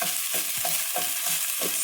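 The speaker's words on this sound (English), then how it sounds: "the garlic is already cooking" Garlic sizzles steadily in a pan while a utensil stirs it in regular scraping strokes, about five or six of them, close and fairly loud.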